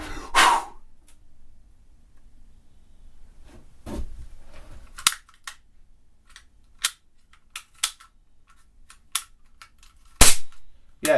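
A toy cap gun firing in a quiet room, a dozen or so sharp isolated cracks spread irregularly, some loud and close, others softer, with faint handling noise between shots.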